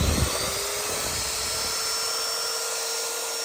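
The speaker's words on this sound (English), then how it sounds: "I drilled a couple holes in here." A power drill whirs steadily while drilling holes in a secondhand wooden shelf piece, a continuous high-pitched buzz close by with no talking.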